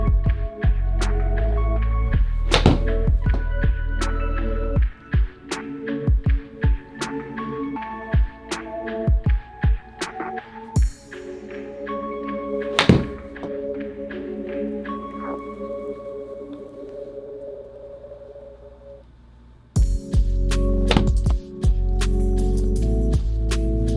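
Golf shots hit indoors on a SkyTrak setup with a 52-degree wedge and Pro V1 balls: sharp, crisp strikes come at irregular intervals, some in quick pairs, over a steady low hum.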